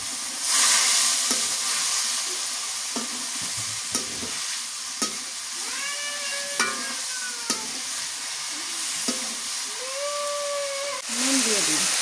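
Bitter gourd fries in hot oil in a pan at a rural village kitchen, sizzling with a constant loud hiss while a utensil clicks and scrapes now and then and rising squeaky tones come from the stirring.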